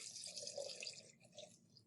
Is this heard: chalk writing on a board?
no